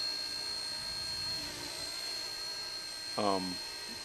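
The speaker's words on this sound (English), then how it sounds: "We'll just leave the drone running" A camera drone runs on the ground after being set down, a steady whining, propeller-like hum held throughout, with a brief voice near the end.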